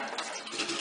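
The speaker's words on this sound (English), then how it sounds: "take a little bit of water. You want to be able to get the gold out of the trap. So you just pour a little bit in and rinse out" A little water is poured into a 2-inch PVC pipe gold trap used for sluicing, a short, close, steady splashing gush with no voices.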